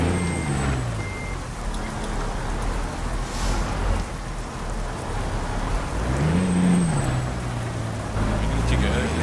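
Big truck driving in Euro Truck Simulator 2, a low engine rumble with rain-like noise over it and a brief rising-then-falling engine note, high tonal beeps now and then, steady and moderately loud.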